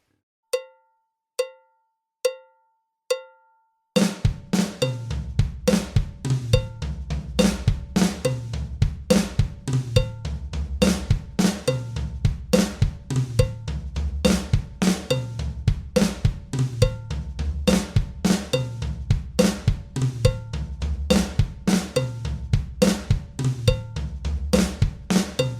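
A drum kit plays a flam fill orchestrated around the toms and snare, opening with four sparse, ringing hits before a dense, steady run of rapid strokes, loud and close, with no voices.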